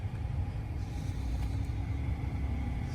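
A Tesla Cybertruck sweeps through a full tight turning circle, giving a steady low road rumble and drive hum that holds at an even level throughout.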